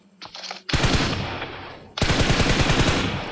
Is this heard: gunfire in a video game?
yes